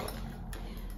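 Ceramic-coated frying pans from a three-piece set clink and knock together as they are handled, a couple of brief metallic taps close up over a dense background rush.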